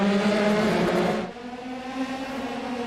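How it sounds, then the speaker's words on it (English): Formula 3 race car engines rev loudly together on the grid at Oulton Park before the start, a dense roaring drone that drops to a lower steadier hum partway through. "The engines are revving, the drivers are ready."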